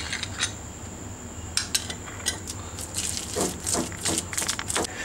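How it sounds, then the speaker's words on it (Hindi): A spoon clinks and taps against a bowl while butter is stirred into a ground murabba paste, with irregular close scraping and light metallic rattles that grow busier toward the end, no voices. "अब हम क्या करेंगे कि इसमें मक्खन शामिल करके अच्छी तरह मिक्स कर देंगे।"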